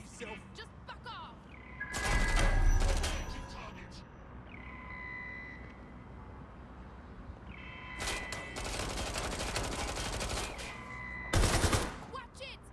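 Bursts of automatic gunfire in Watch Dogs: Legion, with loud volleys near the start and again toward the end. Shouted in-game voices talk over the shots.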